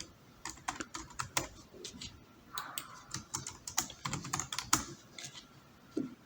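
Someone types a name on a computer keyboard, a close run of quick irregular key clicks with brief pauses between bursts and no speech.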